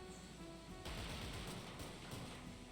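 Machine guns fire in the robot tactics game SteamWorld Heist II, starting suddenly with a burst of rapid shots. A sustained, rattling volley of gunfire follows under a steady game backdrop, with no voices.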